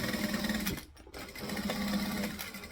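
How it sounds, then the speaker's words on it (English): A sewing machine stitches the exterior of a garment, running in a steady buzzing whir that dips and pauses briefly, then resumes at an even pace, close and alone. "So we're going to stitch all of the exterior."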